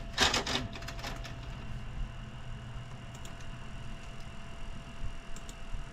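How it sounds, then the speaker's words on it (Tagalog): A printer runs a vinyl sticker sheet, opening with a burst of loud mechanical clatter and then settling into a steady, quieter whir with faint clicks. "So yan, i-print ko na."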